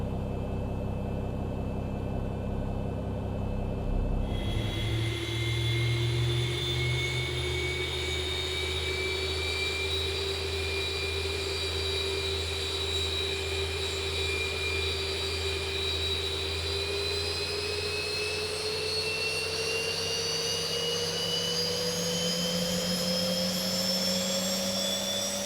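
Boeing 737 engine number 2 spooling up during start in X-Plane 11, a steady rising turbine whine and roar that climbs slowly in pitch over about twenty-five seconds, loud and continuous with no talking.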